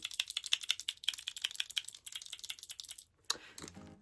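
A small fidget toy keychain is clicked rapidly and repeatedly up close, a dense run of light plastic clicks that pauses briefly before a final burst of rustling handling.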